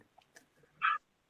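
A pet dog at home gives one short, sharp bark or yelp, close and brief after a moment of faint shuffling and breathing.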